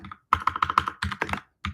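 Rapid keystrokes on a computer keyboard, a burst of close, crisp clicks followed by a few more after brief pauses, with no voices.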